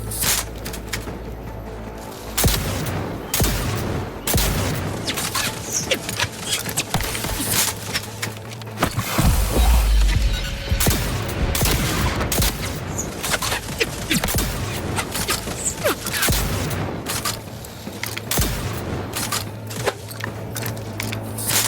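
Gunfire in The Outer Worlds 2 on very hard difficulty, a dense stretch of repeated shots and impacts layered over steady game music and ambience, loud and continuous throughout.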